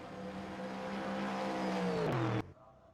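GT3 race car engine in a video game drones loudly down a pit lane at Road America, a steady whining pitch that drops sharply before cutting off abruptly.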